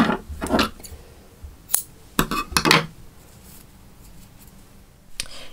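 Crochet yarn snipped with scissors, a few short crisp metallic snips and clicks close by, scattered across a few seconds with quiet gaps between them.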